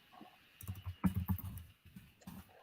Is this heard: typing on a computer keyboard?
yes